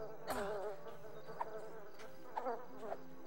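Bees buzz in the Lord of the Rings: The Fellowship of the Ring Xbox video game, a wavering insect drone rising and falling in a few swells over a low steady game background, no voices.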